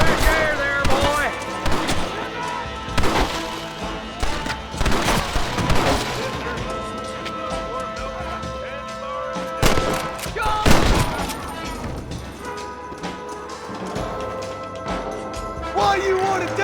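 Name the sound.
gunfire in the video game Red Dead Redemption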